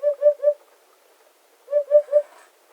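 Two bursts of three soft, hollow hoots each, a hut-hut-hut call of a hoopoe, evenly spaced and fairly close, separated by a short quiet gap with no other sound.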